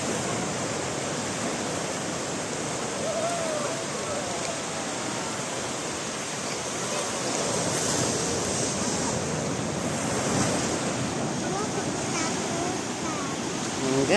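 Ocean surf rolling onto a beach at Krui, Lampung: a steady, loud wash of breaking waves and hiss with some wind buffeting the microphone, continuous throughout and without talk.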